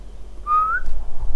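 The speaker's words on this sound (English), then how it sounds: "Sorry, I whistled." A single rising whistle from a person during a StarCraft II game commentary, a short bright tone held for under half a second, close and clear over a low room hum.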